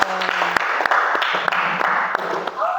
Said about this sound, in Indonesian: kita berikan aplaus kepada kelompok jamur